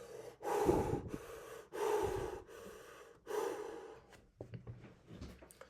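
A person breathing hard while resting between exercise sets, with a few loud, heavy breaths in an even rhythm, then quicker, shorter gasps and snorts. The breathing is close and there is no talk.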